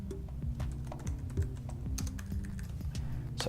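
Fingers clatter steadily across a computer keyboard while a product review is typed, quick irregular keystrokes close up and continuous for several seconds with no talking.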